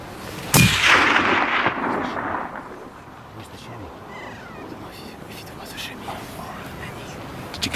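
A single sharp rifle gunshot cracks out loud during a Himalayan tahr hunt on a mountain skyline, its boom rolling away in a long echo, followed by faint whispered talk against the wind.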